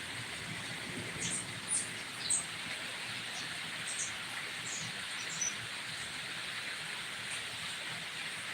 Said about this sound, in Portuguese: com essa chuva torrencial